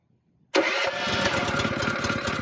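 The pump engine on a brush truck is key-started on full choke, catching abruptly after a moment of quiet and settling into a steady, throbbing mid-pitched idle.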